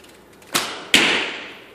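A toy arrow from a Zing Z-Curve bow whooshes and smacks sharply against a wall, two quick impacts close together with a brief airy tail, loud and near.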